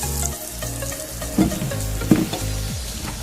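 Pakora batter dropped into hot oil sizzles and bubbles steadily, with a couple of sharper crackling bursts as pieces hit the oil and are stirred, close and fairly quiet, with no talking.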